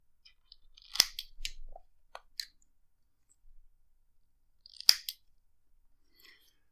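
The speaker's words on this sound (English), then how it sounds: "When I cut the cotton, I'm cutting it more or less level to the O-ring here." Scissors snip cotton wick level with the O-ring of an Artemis MTL RTA, a few close, crisp cuts in two bursts with quiet gaps between and no talk.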